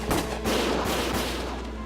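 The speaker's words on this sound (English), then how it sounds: "Gunfire!" Rapid bursts of gunfire in the video game Valkyria Chronicles, a dense, loud crackle of overlapping shots with sharp cracks near the start, sustained for the whole moment.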